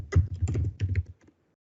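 Password typed on a computer keyboard: about a second of quick, close, crisp key clicks in an uneven run, then a few faint taps before quiet, with no talk.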